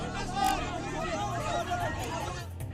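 A hostile crowd in Bengal surrounding politician Abhishek Banerjee, a dense wall of overlapping shouting voices and babble, continuous and close throughout.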